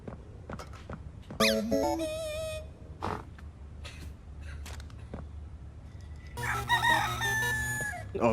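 A chicken in the video game Poppy Playtime Chapter 4 clucks and crows in short bursts, with scattered game clicks and thumps between, and a louder, busier stretch of squawking near the end.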